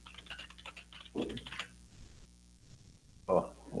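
Fast, uneven clatter of keys on a computer keyboard, close up, with bursts and short pauses and a louder thump of keystrokes toward the end.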